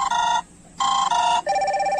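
Incoming-call ringtone sounding from a Fire-Boltt Talk Bluetooth calling smartwatch paired with a phone, a loud bright electronic melody in short repeated bursts with brief gaps, close and alone.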